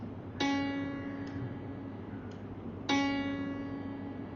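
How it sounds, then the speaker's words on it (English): A C sharp note is struck twice on a keyboard instrument, each one ringing and slowly fading, a few seconds apart and fairly soft. "With a sharp, which we called C sharp,"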